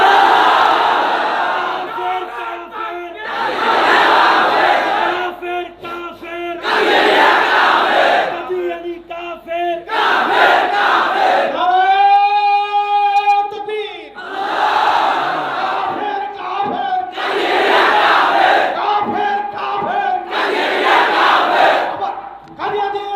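Large congregation at a mosque sermon in Barisal chanting slogans in unison: loud repeated call-and-response bursts from the crowd, with a single voice singing a drawn-out melodic line in a pause midway through.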